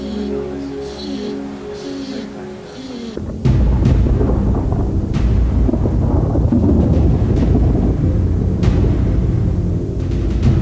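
Thunderstorm over San Antonio, with a loud heavy rumble of thunder that breaks in suddenly after a quieter stretch and continues as a dense, steady roar of storm noise.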